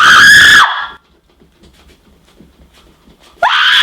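A voice imitates a man screaming on the street, giving a loud strained shriek of about half a second, then near silence, then a second loud scream cutting in at the end.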